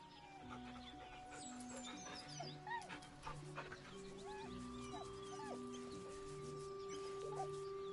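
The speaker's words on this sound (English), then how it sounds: "The dog whimpers nervously," A dog whimpers nervously in Baldur's Gate 3, soft whines and yips rising over a busy outdoor game ambience with clucking fowl, steady background tones and scattered bird-like chirps throughout.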